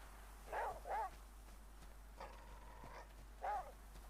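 Daisy the dog in the game The Flame in the Flood, short yipping barks and a drawn-out whine or growl sounding over quiet background ambience, several separate bursts spread apart.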